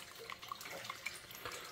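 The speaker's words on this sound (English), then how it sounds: "the water's flowing by" Water flowing steadily through a sluice during a gold concentrate run, a faint continuous rushing wash with light splashy trickles, quiet and without talk.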